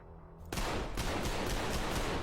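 Rapid gunfire from a Resident Evil game bursts in loudly after a brief quiet moment and keeps going as a dense, continuous volley with repeated sharp shots hitting an enemy. Nobody speaks over it.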